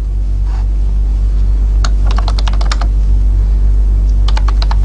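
Keys clatter on a computer keyboard as code is typed, two quick runs of sharp clicks separated by a pause, close and distinct over a steady low hum.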